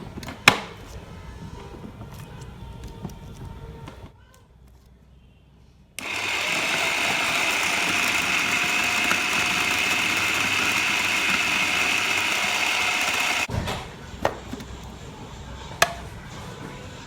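Mixer grinder whirring loudly and steadily for about seven seconds as it grinds green masala paste with yogurt for fish curry, between quieter kitchen clatter and clicks.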